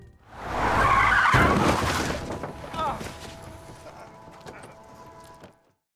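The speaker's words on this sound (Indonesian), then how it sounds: "ia malah tertabrak mobil" A car skids with a loud tire screech as it strikes a man, the harsh squeal swelling then fading over several seconds into quieter rattling and clatter before silence.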